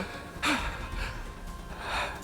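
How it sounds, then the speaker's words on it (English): Panting and gasping breaths from a character in The Hundred Line video game, a sharp gasp followed by a few softer, breathy exhales over faint background game sounds. "Stop that heavy breathing."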